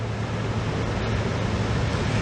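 Ocean waves and wind at the shore make a steady, dense roar, with gusts buffeting the microphone throughout and no voices.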